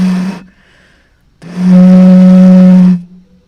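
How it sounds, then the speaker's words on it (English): A low, breathy hoot made by blowing across the mouth of a nearly empty water bottle: a brief tone, a pause, then a longer steady note of about one and a half seconds, close and loud. "since I've drank a lot of the water in this bottle, it's very low, so it's making a low sound"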